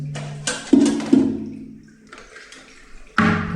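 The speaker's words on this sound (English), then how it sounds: "I need to flush all the toilets" A household toilet flushes in a short rushing burst of water, followed by gurgling and a second surge near the end, close and fairly quiet in a bathroom with a possible water-supply fault.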